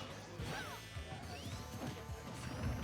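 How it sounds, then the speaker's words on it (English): Forward smash attacks in Super Smash Bros. 4, a quiet jumble of whacks and crash hits with sweeping whoosh tones and gliding effects, all faint behind game background sound. "he's just throwing out forward smashes now"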